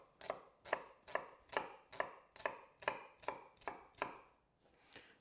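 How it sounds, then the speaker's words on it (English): A knife chops red onion finely on a board for chimichurri, about ten crisp, evenly spaced strokes close up, then a brief pause and one last cut, with no talking. "And really finely chop your red onion."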